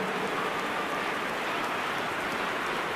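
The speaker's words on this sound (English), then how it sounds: "We welcome you to a rainy day here, damp but potentially dramatic" Steady rain hisses evenly over a stadium in the football video game eFootball, a constant soft wash with no voices.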